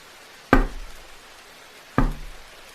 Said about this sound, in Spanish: oí unos golpes muy suaves en la pared que había detrás de mi silla